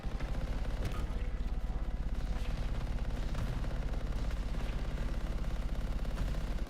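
Elementals in the video game Anthem fire continuously, a dense stream of rapid, loud shots layered over rumbling game effects, with no pauses.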